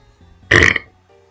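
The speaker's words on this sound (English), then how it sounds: "Holy shit, that was a big ass burp" A single loud, deep burp bursts out close up, lasting about a quarter second before trailing off, with quiet background sounds on either side.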